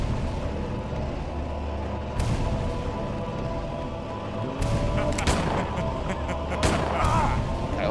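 Gunfire in the survival horror game Silent Hill 4: The Room, several sharp shots spread across a few seconds over a steady low game ambience, with faint talk underneath.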